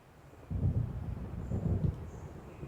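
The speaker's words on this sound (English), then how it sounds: "It seems there's a storm coming." A thunderstorm rolls over a lake in the video game Alan Wake, with a deep, muffled rumble of thunder swelling and fading over faint wind-like background noise.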